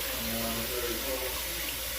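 A couple of cups of water pour in a steady splashing stream for cooking beef liver in gravy with onions and Idaho Russet potatoes, close and continuous.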